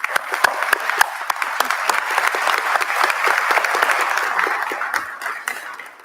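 Sustained audience applause at a university commencement ceremony, many hands clapping steadily and loudly throughout, with a few sharper claps standing out and a slight fade near the end.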